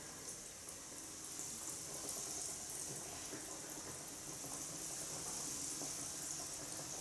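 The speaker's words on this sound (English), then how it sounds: "You can feel the nice fry." Mozzarella in carrozza fries in hot oil with a steady, even hiss and crackle that holds at a constant level from start to finish. The sizzle is fairly quiet and no one speaks.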